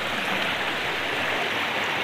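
A small river stream flows in the countryside of Solok regency, West Sumatra, giving a steady, close rushing and splashing of water with no pauses.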